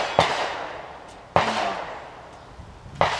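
Three sharp, cracking reports from a Tippmann Arms M4 .22 rifle with a red dot sight, fired from a seated position at a target, each shot loud and close with a brief tail, spaced about a second and a half apart.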